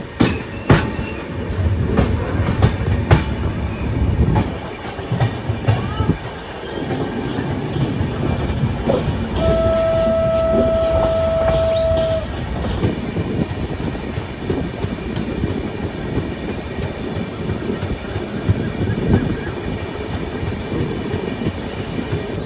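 The Mysuru–Cuddalore Port Express rolls along a single-line track, heard from on board as a steady loud rumble with clickety-clack wheel beats, sharp clanks near the start and a sustained tonal squeal partway through.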